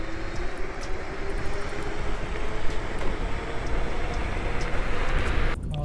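A Dualtron Eagle electric scooter accelerates at full power in mode 5, producing a loud, steady roar of wind and road rumble with a rising whine, sustained for several seconds before cutting off abruptly near the end.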